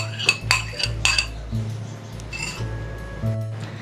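A spoon clinks and scrapes around a bowl while a mayonnaise and milk mixture is stirred in with yogurt, giving several quiet, irregular metallic taps over a faint low hum.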